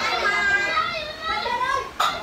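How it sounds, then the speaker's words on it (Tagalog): Noisy children playing and chattering together, a dense, steady babble of young voices that stays close and lively throughout, with a sharp louder burst near the end. "Ingay ng mga bata."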